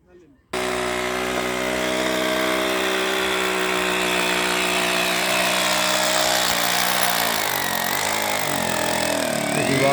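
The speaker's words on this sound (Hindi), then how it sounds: "दीवार में छेद किए जा रहे हैं" A power drill bores holes into a wall, starting abruptly and then running as a loud, steady, whining drone with a slight shift in pitch partway through.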